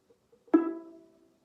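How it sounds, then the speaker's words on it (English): Single pizzicato pluck of a violin's D string with a finger stopping it, a sharp attack followed by a ringing tone that fades over about half a second, close and alone. "come over to the D string and pluck the D string with your finger on it"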